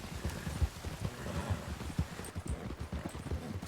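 Horses' hooves clip-clop steadily while pulling a cart in the Western game RedM, a close, rhythmic patter of hoofbeats going on for the whole stretch with no talk over it.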